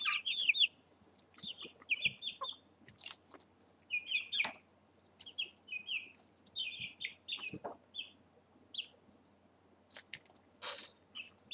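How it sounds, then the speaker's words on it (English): Brahma chickens, a very large breed, cluck in quick, uneven bursts of short calls close by, with soft pecking sounds between them and no talking. "Brahma chickens, which can be almost as big as a small child."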